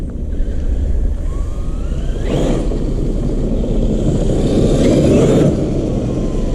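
An X-Maxx 8S RC car driving, giving a loud, steady motor roar and a thin whine that rises and falls, with no break in the noise.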